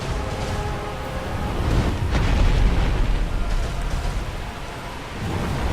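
Dragon's breath attack in Dark Souls: a sustained, roaring fiery rush with a deep low rumble, swelling louder around the middle and lingering for several seconds without any talk.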